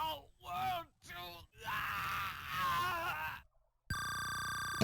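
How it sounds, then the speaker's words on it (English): Enemy death screams from the video game Ys 4: Dawn of Ys, a few drawn-out groaning wails in quick succession, followed by a steady electronic tone. "I love these people's death screams."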